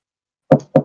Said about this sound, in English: 3 straight knocks.